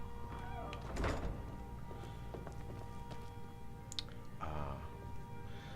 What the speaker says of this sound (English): I'll just close the door.